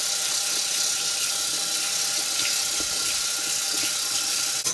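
Tap water runs into a bathroom sink after foam cleaner has been left to work, making a steady, close, broadband rush and splash that holds constant with no talk.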